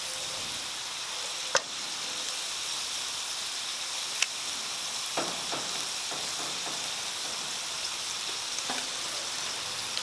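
Shredded zucchini mixed with einkorn flour sizzles steadily in a pan, a constant crackling hiss with a few sharp clicks and taps from a utensil.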